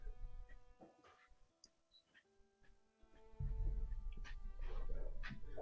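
A pet dog barks and whimpers while its owner wrestles with it, a few short yips early on, then a louder stretch of rough, scuffling noise near the end.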